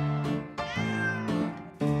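A pet cat meows several times in close succession, loud and near, each call a drawn-out, rising-and-falling cry with no other sounds.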